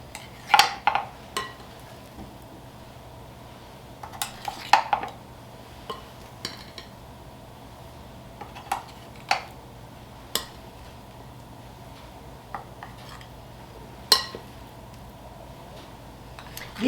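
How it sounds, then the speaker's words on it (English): Two teaspoons scoop blueberry muffin batter made with whole wheat flour into muffin cups, giving sparse, irregular clinks and scrapes of metal against bowl and cups over a low steady kitchen hum, with no talking. "if you use 2 teaspoons, you can use one, just scoop off the other to fill up your cups"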